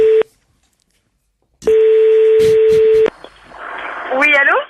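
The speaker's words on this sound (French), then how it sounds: "le téléphone va sonner chez elle." A telephone rings on the line during a radio station call, heard from the caller's end: a short steady tone, a pause of silence, then a longer tone over faint line noise, with brief voice-like sounds at the end.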